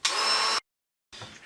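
Dremel rotary tool fitted with a 2.5mm bit drilling through a plastic DJI Phantom drone shell: a half-second high-pitched whine and grind, a brief silence, then a second weaker burst of drilling.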